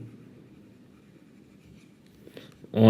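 Quiet scratchy writing strokes on a surface during a lesson on database views, faint and continuous, ending with a louder thump or handling noise.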